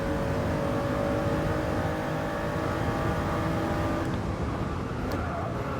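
A Toyota GR Yaris in Gran Turismo Sport holds a steady, loud engine drone at constant revs, a continuous buzzing tone with no breaks or talk.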